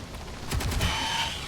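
Automated guns in Space Engineers fire at spiders in a short burst of rapid close shots, followed by a lingering mechanical ring.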